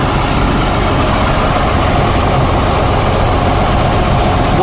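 A boat engine runs at a loud, steady drone, throbbing low and continuous with no pauses and no speech.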